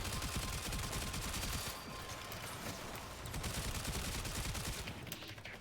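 Weapon fire in the video game Warframe, a dense rapid stream of shots heard close and loud throughout, with no speech over it.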